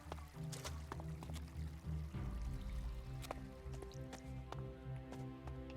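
A river flowing in the video game Elex 2 gives a close, continuous liquid trickle and splash with a few sharper drips, over a low background hum.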